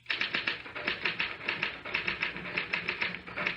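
A typewriter clatters nonstop in a 1970s radio drama, a dense run of evenly paced metallic key strikes. It stays steady and fairly close, with no talking over it.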